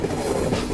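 The Dehradun–Subedarganj Express rolls into Chandauk station with a steady rumbling clatter of wheels and carriages, loud and continuous throughout.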